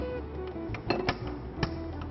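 A frying pan set down on a lit kitchen stove: a few light metallic clinks and knocks, close and moderately quiet, over a steady background hiss.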